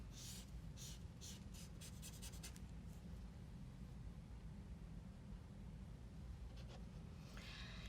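Marker strokes scratch across paper while a unicorn is drawn and coloured in, a quick run of short, rhythmic rubbing strokes early on, then quieter steady colouring with a few more strokes near the end, alone and close.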